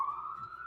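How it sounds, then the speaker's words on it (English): An ambulance siren wails through Los Angeles at night, a steady sustained tone holding throughout, moderately loud and continuous with no voices over it. "The ambulances have been going like crazy in LA tonight"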